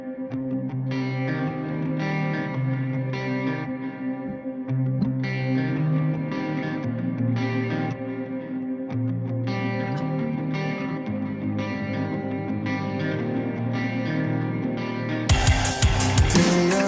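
Rock song plays continuously with heavy distorted guitars and steady drums, loud and full throughout, briefly breaking into a brighter burst near the end.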